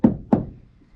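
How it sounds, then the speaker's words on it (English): Two sharp knocks from inside a Vivaro campervan on its newly fitted side window, about a third of a second apart, close and solid, each with a short dull ring. "If I knock it from the inside, it'll knock the carpet over with it."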